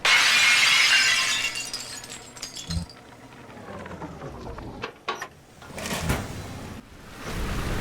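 A stained glass window shatters in a video game, a loud burst of breaking glass up front, followed by scattered clinks, scraping debris and falling shards that taper off and return in a few later crashes.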